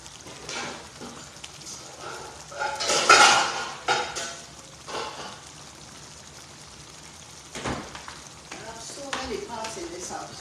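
Metal pots and pans clatter and clank in a home kitchen as a cook rummages for a small pot to make fufu, with a loud burst of banging partway through and scattered knocks after, while a person talks.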